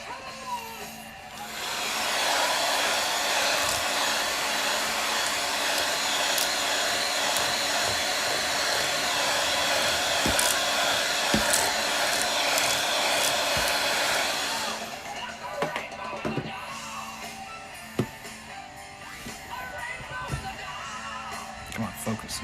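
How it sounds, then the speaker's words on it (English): A small vacuum cleaner runs over a Boba U4T keyboard, a loud steady whine for about twelve seconds before cutting off, followed by light clicks and handling noise. "Let me vacuum it a little more."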